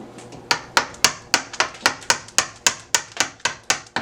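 Wooden mallet striking a chisel into plaster during carving, a steady series of about fourteen sharp, evenly spaced knocks, close and fairly loud, with no talking.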